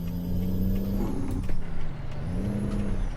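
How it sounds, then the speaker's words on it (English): A big rig in American Truck Simulator hauling gas in Arizona fumbles a gear change, its steady diesel drone stumbling midway with a rough grinding lurch before settling back to a steady hum; no voices. "Oh, that was a bad gear change."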